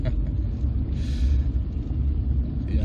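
A 1989 Volvo 240 2.0 GL estate engine rumbling while driving, a steady deep low drone with road noise and a brief hiss midway, loud and close with no talk.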